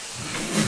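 Steam hisses in a brief, loud, broadband rush as food is steamed in a tower of steamer baskets, with the sound rising slightly toward the end.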